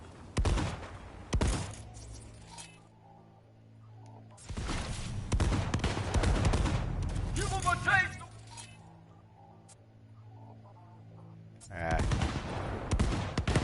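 Bursts of automatic gunfire rattle in the video game Cyberpunk 2077, coming in loud clusters separated by quieter stretches of game music, with a brief vocal exclamation.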